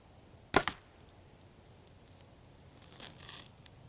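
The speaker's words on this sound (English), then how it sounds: "Just the arrow hitting the string suppressors is all you heard." An arrow loosed from a 2013 Bear Archery Motive 6 compound bow gives one sharp, loud snap with a brief rattle, then a faint soft whirr a few seconds later in a quiet outdoor setting.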